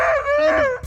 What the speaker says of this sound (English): favorite senile dog that like to bark at you, but he don't seem mean